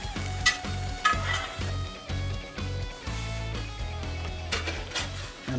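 Hash browns sizzle steadily on a hot griddle, with a close frying hiss under rhythmic scraping strokes from a spatula and occasional metallic clinks.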